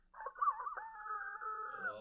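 A human voice imitates a hoarse rooster crowing, one drawn-out raspy call that rises and then trails off, heard close and alone against quiet.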